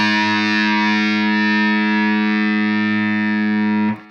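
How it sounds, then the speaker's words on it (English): The A string of a distorted electric guitar, tuned a little below standard, is struck once and left ringing as a single loud, sustained note. It ends with a sudden mute near the four-second mark. "My A string sounds like this."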